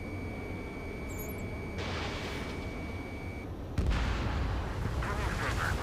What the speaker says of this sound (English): Their artillery fire just missed us off our starboard side.